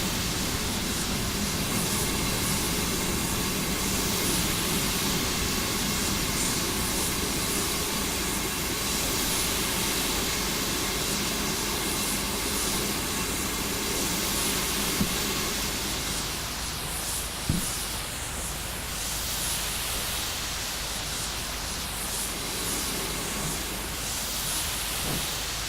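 A locomotive pulls away on the Great Western main line, a loud, sustained engine roar and rumble that holds steady throughout, with a couple of brief knocks partway through.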